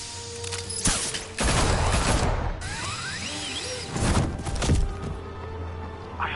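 Gunmen open fire in the video game Batman: The Telltale Series, rattling bursts of rapid shots in several volleys, mixed with whooshing action sounds and mechanical clatter, loud and close.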